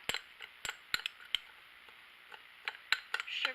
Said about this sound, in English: I'm going to mix this up.